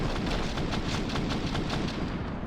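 Gunfire in the video game CS:GO crackles in a rapid series of sharp bursts over a dense, noisy background, loud and continuous for a couple of seconds.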